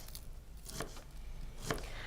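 A knife chops an onion finely on a board for party food, giving a few soft, scattered cuts at close range under a quiet background hiss.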